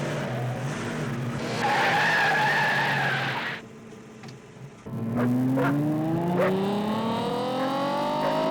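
Racing cars skid with a loud, sustained tire squeal, break off briefly, then return with rising engine revs and further screeching tires, close and dominant with no talking.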